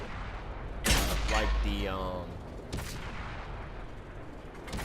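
In a video game, an Abrams tank fires its cannon: two heavy booms, the first louder and longer, with a voice talking briefly between the shots over a low rumbling background.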